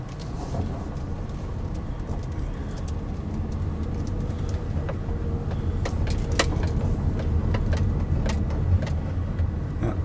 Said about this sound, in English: We are now driving up into the Whitehouse Cemetery.